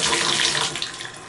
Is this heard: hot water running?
yes